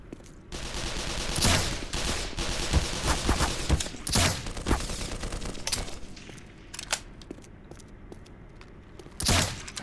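Automated turret gunfire in the video game Black Mesa: sustained rapid bursts of shots with sharp loud cracks scattered through, fairly close and continuous, no talking.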